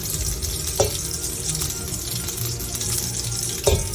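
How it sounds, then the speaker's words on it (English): Hot water draining from a pot of boiled potatoes into a sink, a steady close splashing rush that runs the whole time, with two brief clanks of the pot. "Mom's taking the potatoes off the stove. They're boiling, and she'll rinse out the hot water"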